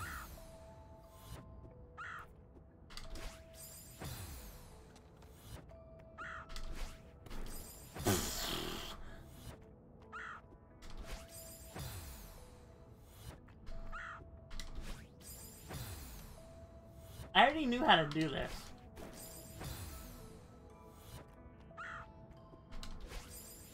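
Bird cawing in the video game Celeste, repeated harsh croaks recurring every few seconds over game music and mechanical clicking effects, with someone talking at times.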